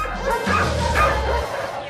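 A dog gives a close, loud bark and whine at a busy outdoor dog walking day event, one sustained vocal burst lasting about a second.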